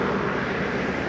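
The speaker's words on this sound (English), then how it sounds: "It's a fully electric airplane." A Beta Technologies fully electric airplane, the Alia, with dual redundant electric motors and batteries in the belly, flies past as a loud, steady, broadband whooshing drone with no voices.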